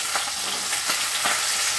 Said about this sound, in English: We just want to sear in the other side.